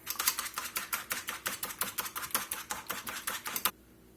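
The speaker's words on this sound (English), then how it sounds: "mix some eggs up in" Eggs being mixed in a small pan at a breading station for chicken parmesan, a fast, even series of clicking whisk or fork strokes against the pan, close and rhythmic, then stopping abruptly.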